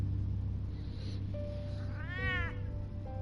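A cat in the Batman Telltale video game gives a single rising-and-falling meow over a low game background hum, clear and fairly close.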